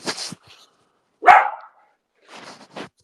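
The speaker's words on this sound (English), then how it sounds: "I'm gonna give this dog some damn chocolate or something if she don't shut the hell up" A dog barks, a female dog heard as one sharp, loud bark in the middle, with a few fainter yips and whines before and after; close to the microphone, with quiet gaps between.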